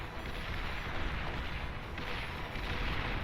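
Mace units open fire on Centurions in the strategy game Beyond All Reason, a dense, continuous wash of overlapping cannon and gun blasts with rumbling booms and no clear pauses.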